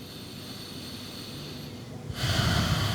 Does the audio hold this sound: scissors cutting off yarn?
no